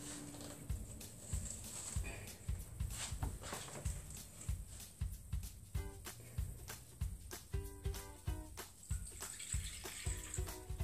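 Drinking water is poured into a terrestrial hermit crab terrarium, a steady trickling splash with scattered clicks and knocks of containers, quiet and close, with no talking.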